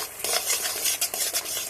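Beaten sour yogurt goes into a pan for a vegetarian pointed-gourd dish and is stirred, giving soft scraping strokes over a light sizzle, close and without talk.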